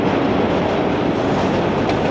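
Steady, loud rumble of a train rolling past in Philadelphia, from Rocky II, its wheels clattering continuously with no voices throughout.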